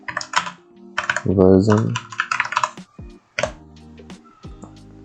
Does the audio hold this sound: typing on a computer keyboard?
yes